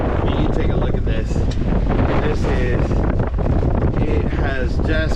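Strong wind roars across the microphone aboard a fishing boat on rough sea, a loud constant buffeting rush with water sounds beneath and a voice talking through it.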